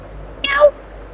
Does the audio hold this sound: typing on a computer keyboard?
no